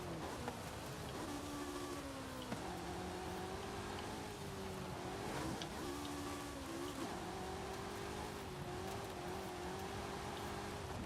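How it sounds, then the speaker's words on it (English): A DeLorean race car engine in a Forza video game hums steadily under noisy road and wind roar, its pitch stepping up and down through gear changes over a continuous drive. "Oh, there's another Delorean in the race."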